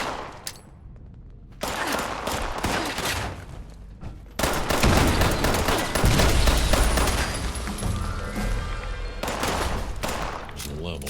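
Sustained bursts of gunfire in Fallout 76, loud and dense, with rapid overlapping shots and booms running for most of the stretch after a brief quieter opening, voices faintly mixed in.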